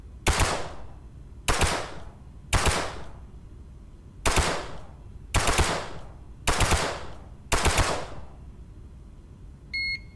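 Paint gun firing in a video game, a non-lethal paintball weapon: seven sharp, loud shot bursts spaced about a second apart, each a short cracking volley, with a brief electronic beep at the very end.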